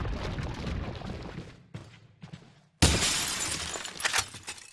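Glass shattering in the Resident Evil 4 video game, a loud crash with scattered tinkling debris, a brief drop to quiet, then a second bright burst of breaking glass and falling shards.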